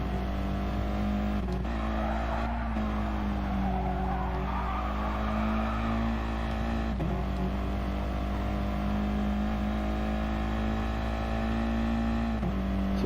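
Engine of a little green Volkswagen Scirocco race car in the racing game GT Sport, a steady loud droning hum that shifts pitch through corners, with tire squeal and skidding mixed in, continuous throughout and close up.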